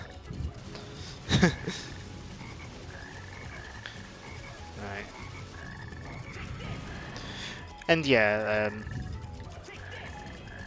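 Frogs croaking in the Sonic Heroes game, with two loud bursts of croaks rising above a busy bed of game music and sound effects, while someone talks briefly.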